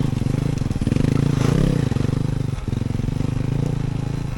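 A Talaria Sting R MX4 electric dirt bike climbs a muddy trail in American Fork Canyon, its motor giving a steady pulsing hum with clattering and scraping from the rough ground.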